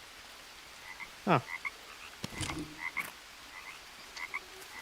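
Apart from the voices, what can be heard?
frog croaking in the video game Green Hell VR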